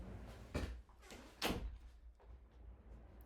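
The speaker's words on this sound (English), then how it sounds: "I'm just going to close the door" A door being shut indoors: two firm thuds close together, the second louder, followed by fainter rattling and settling knocks.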